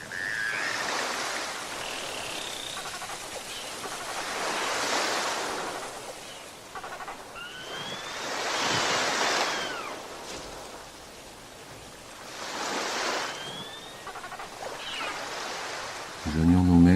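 Ocean surf rolls in broad swells, several waves building and receding in slow rhythm, fairly loud and close, with faint higher calls drifting over the wash.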